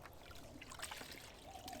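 Laundry rinsed by hand in a 5-gallon bucket of water: soft, continuous sloshing and trickling with scattered light splashes, faint and close, no voices.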